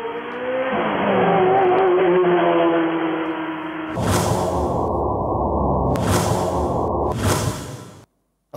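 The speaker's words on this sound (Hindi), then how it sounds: "कितने करीब से वो गाड़ी गई और इस शख्स की जान बख्शी हो गई।" A car roars past very close to a pedestrian crossing the road, a loud rushing engine surge with a sharp whoosh, followed by bursts of passing noise before cutting out abruptly.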